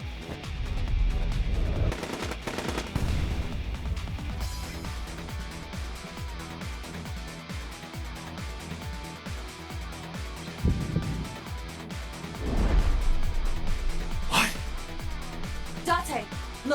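Loud game gunfire from the Evolver gun in AI: The Somnium Files, with bursts and booms around the start and near the end over a busy soundtrack and game noise, and voices talking through much of it.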